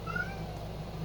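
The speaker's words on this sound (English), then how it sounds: "We might have a special guest because my cat is complaining somewhere." A house cat meowing somewhere nearby, a short faint drawn-out complaint in a quiet indoor room.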